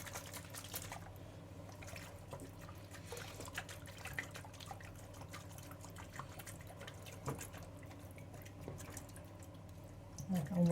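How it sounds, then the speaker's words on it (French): Hatched-out clear incubated eggs get a final rinse in clean water, with a soft continuous trickle and faint drips running steadily at low level throughout, close by and without any talk. "Je fais un dernier rinçage"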